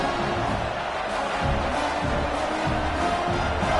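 A home crowd at a football game keeps up a continuous, dense roar of cheering throughout, loud and steady with no clear breaks.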